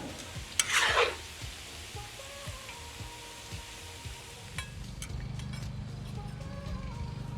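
Cabbage sizzling and frying in a disco pan as it is stirred, with a burst of scraping near the start, then a steady close hiss with occasional clinks as it comes off the heat.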